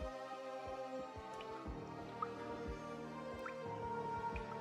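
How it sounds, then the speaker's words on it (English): Water drips steadily in a quiet room in Arknights, each drop a soft, distinct plink landing at an irregular pace over a low, constant hum, with no voices. "All you could hear is dripping water."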